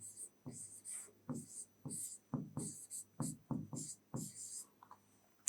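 A pen scratches words onto paper in short strokes, close and quiet, with a soft scraping rhythm of separate bursts and small pauses between words.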